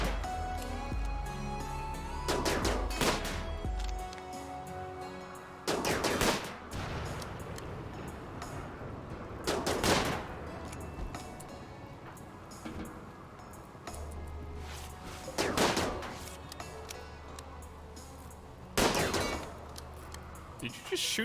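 Gunfire in the RimWorld colony game, several sharp loud bursts of shots spread across the stretch, each a broad crack over a low rumbling backdrop.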